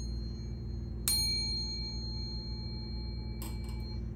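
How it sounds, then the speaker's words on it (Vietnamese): A small bronze bell, about 7.5 cm across the mouth and 3.5 cm deep, gives two bright rings, a single clear strike that decays slowly and then a quick cluster of lighter dings, heard alone and close. "Em qua H93, em có một chuông bằng đồng."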